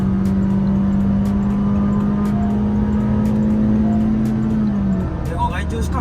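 A tuned Gen 5 Honda City RS pulls in third gear from around 90 on a slight uphill, its engine holding a steady, loud drone that climbs slowly before easing off, with someone talking over it.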